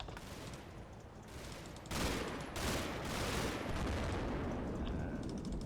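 Gunfire in a turn-based war video game: a dense, continuous crackle of shots that swells louder partway through, with no voices.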